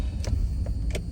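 A car drives steadily through a Texas town, its low engine and road rumble heard from inside the cabin, with faint light clicks and jingles over it.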